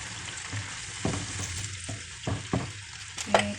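Chicken pieces stirred in a pan with soy sauce and water, a soft simmering sizzle under a series of scraping, knocking spoon strokes against the pan.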